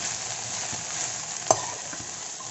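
Okra (bhindi) frying uncovered in an open pan for an Andhra-style bendakaya fry, a low steady sizzle with one sharp clink of the spoon against the pan partway through, no voices.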